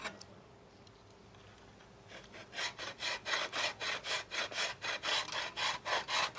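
Floor tile cut by hand with a saw, quiet scraping at first, then a steady run of about twelve loud, even back-and-forth strokes, close and alone.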